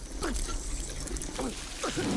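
Muffled underwater ambience from a Modern Warfare campaign level, a steady low murky wash with bubbling trickles and gurgles coming in short bursts, while people talk over it.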